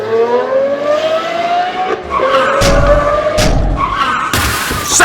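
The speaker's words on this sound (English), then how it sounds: "Sassy Vee wrecks in Clunker Canyon." Hot Wheels diecast cars speeding down a race track give a rising whine. Abrupt clattering crashes follow as one car wrecks.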